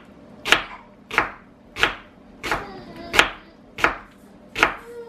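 Onions sliced with a knife on a cutting board: seven evenly spaced, sharp chops close by, each a crisp thunk against the board, with no talking.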